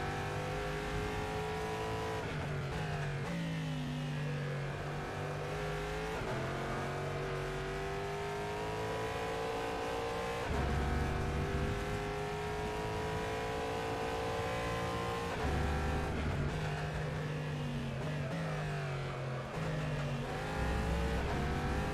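Race car engines in the rFactor 2 video game during a GTE race, continuous loud droning with repeated rising revs and shifts, with no talk over the engine sound.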